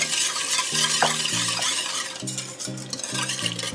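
A sugar mixture with melted shortening is stirred by hand in a bowl, a soft continuous scraping swish with recurring rhythmic strokes and no talking.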